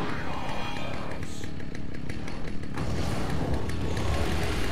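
A chainsaw roars steadily and loud in the Alan Wake game, a dense buzzing engine drone with rising and falling revs that fills the scene without pause.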